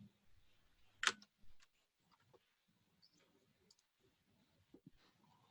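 A computer mouse clicks once sharply and close while working in Trello, followed by faint scattered ticks and light handling noises in a quiet room.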